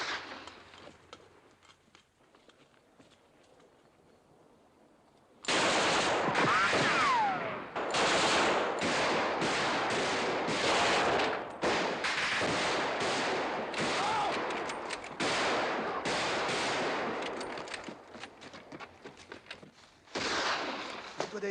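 Soldiers' gunfire in a 1958 war film, quiet at first, then dense bursts of rapid rifle and machine-gun shots that crackle loudly and close, with brief gaps between volleys.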